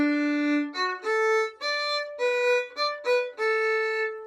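A violin plays a short series of sustained notes on the open D string, each stroke separated by brief gaps, clear and close.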